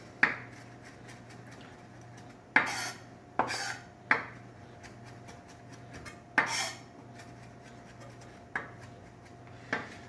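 A kitchen knife chops cilantro on a board in scattered sharp strokes, several distinct knocks spaced irregularly over a low steady background hum, close and fairly clear, with no talking.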